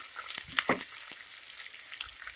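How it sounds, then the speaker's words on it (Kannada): Sliced onions fry in a pan for avarekalu pulao, giving a soft, crackling sizzle with a few sharper spatters, fairly quiet and with no voices. "ಈರುಳ್ಳಿ ಸ್ವಲ್ಪ ಕಲರ್ ಚೇಂಜ್ ಆಗಲಿ, ಅಲ್ಲಿಗಂಟ ಫ್ರೈ ಮಾಡ್ಕೊಳ್ಳಿ"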